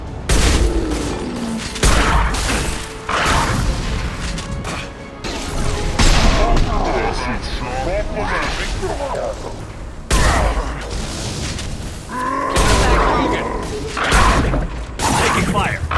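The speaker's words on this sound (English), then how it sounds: "Taking fire." Gunfire rattles through a Mass Effect 2 firefight, with loud repeated bursts, impacts and booms in uneven clusters, and voices talking among the shots.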